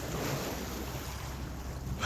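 Sea waves wash against the Mallorca coast in a steady broadband roar mixed with wind, swelling slightly louder at the very end.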